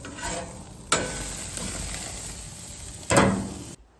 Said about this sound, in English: Burger's still cooking up nice.